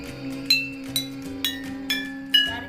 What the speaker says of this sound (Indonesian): Saya akan memukul botol A, B, C, D, E dan kalian akan mendengarkannya.